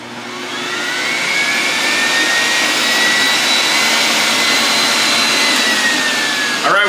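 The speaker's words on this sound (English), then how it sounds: "Now I'm going to do a sound test of the Breville on the high speed setting" A Breville juicer runs on its high speed setting, a loud, steady motor whine with a rising pitched tone that holds for several seconds close up, ending abruptly.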